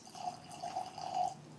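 E.H. Taylor Single Barrel whiskey poured from well above the glass makes a thin, steady ringing trickle that rises slightly in pitch, faint and close, with no voices.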